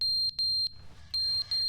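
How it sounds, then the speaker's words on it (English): A fire alarm in the video game The Stanley Parable Ultra Deluxe sounds as loud, shrill, piercing beeps in quick repeated pulses with brief gaps. "Is that the fire alarm?"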